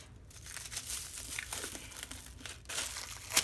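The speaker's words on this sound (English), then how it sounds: "let's see if I can get this covering off" A protective plastic covering being peeled and pulled off a diamond painting kit, giving continuous close crinkling and crackling with a few louder tearing bursts, and no talk.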